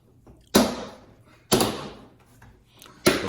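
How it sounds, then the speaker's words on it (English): Plastic clips on an interior car door panel of a 2007 to 2014 Chrysler Sebring, 200 or Dodge Avenger pop loose one after another under a door panel tool, giving three sharp snapping cracks spaced about a second apart, each with a short rattling decay. "Now with the door panel tool, you're going to want to unclip these."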